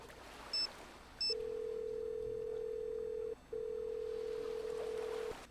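Telephone dialing in a Nancy Drew video game: two brief high beeps, then a steady low ringback tone that pauses once and resumes, clear and close with no talk.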